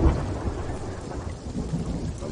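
Loud, deep rolling thunder rumbles continuously under steady rain, with no talk over it.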